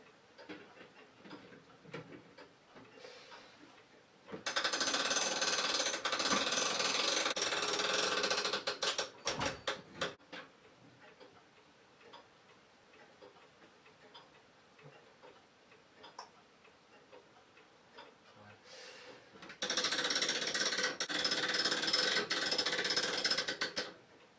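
A household clock is wound by hand: two long stretches of loud, rapid ratcheting clatter, with quiet, steady ticking of the clock mechanism in the gaps between them.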